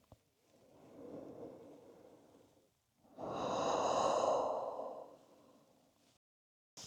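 Deep, slow breathing during a yoga core hold: a long soft exhale, a short pause, then a fuller, louder breath swelling for about three seconds before fading, close and alone with no talk.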